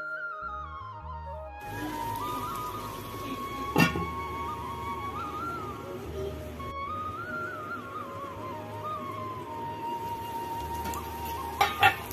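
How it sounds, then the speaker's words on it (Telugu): Goat intestine curry with curry leaves frying in oil in a pot, a steady soft sizzle running throughout, with a couple of sharp clinks of a spoon or lid against the vessel and no talking. "మనకు ఆయిల్లో బాగా ఫ్రై అవుతుంది కదా"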